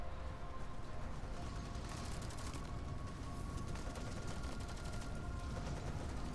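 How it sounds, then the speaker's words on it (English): Dense gunfire from the video game Girl's Frontline 2 Exilium, a continuous rattling barrage of rapid shots and impacts against a frame, steady and moderately loud with bursts of sharper crackle in the middle. "The sound of bullets striking my frame."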